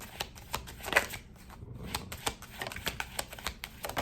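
Tarot cards are shuffled close up, a quick run of crisp riffling flutters and light taps with no talking.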